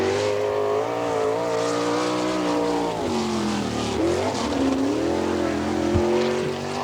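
Sprint car engine screams around a dirt oval on a qualifying lap, pitch rising and falling through the turns with a deep dip as it backs off, loud and close.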